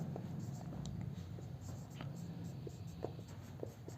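Pen strokes scratch out a definition of radioactivity on paper, a close series of short irregular scratches and taps over a steady low background hum.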